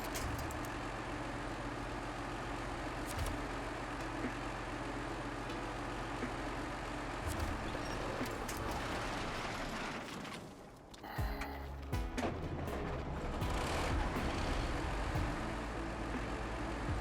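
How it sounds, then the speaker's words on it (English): A heavy truck engine in SnowRunner idles and rumbles steadily on the snowy Kola Peninsula, loud and close, with a brief dip in the drone partway through before it settles back into a constant low roar. "Yes, the engine is on now."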